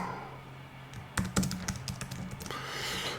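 A short flurry of computer keyboard typing, a quick cluster of crisp clicking keystrokes that starts after a quiet moment and ends in soft background hiss.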